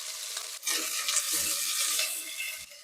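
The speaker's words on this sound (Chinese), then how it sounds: "再把除陈皮以外的小料进去爆香" Aromatics and shredded meat sizzle steadily in hot oil in a clay pot, with a continuous bright frying hiss and occasional scrapes of stirring, close and fairly loud.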